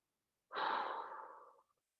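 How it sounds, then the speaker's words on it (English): A single long, forceful exhale pushed out through the mouth during a stretching exercise, close and breathy, lasting about a second before trailing off into silence. "push that breath out"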